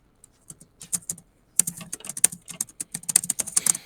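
Rapid, uneven clatter of keys on a computer keyboard, a few isolated taps at first and then a dense, continuous burst of close typing with no talk.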